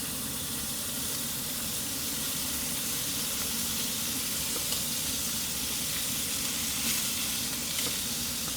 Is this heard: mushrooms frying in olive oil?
yes